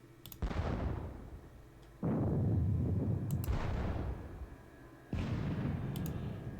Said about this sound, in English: 12-pounder positional battery will shoot at